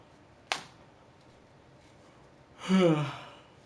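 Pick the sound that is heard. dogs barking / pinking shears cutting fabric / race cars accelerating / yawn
yawn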